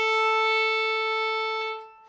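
A single long bowed open A note on a fiddle, held steady and close for about two seconds before fading out, played alone without talk.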